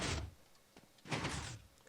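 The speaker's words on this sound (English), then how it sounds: "I made this door over here, which I'm going to show off." A redstone-powered door in Minecraft sliding and thudding, two short mechanical bursts about a second apart, moderately loud and alone.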